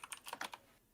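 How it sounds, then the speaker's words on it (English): Rapid typing on a Model M keyboard: a quick burst of about half a dozen sharp, close key clacks that stops abruptly, leaving near silence. "I thought you were like typing at 200 words per minute."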